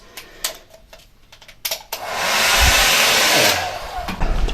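A hair dryer blows steadily for a couple of seconds in abandoned pool changing rooms, loud and close, with handling clicks and knocks around it and a short voice near the end.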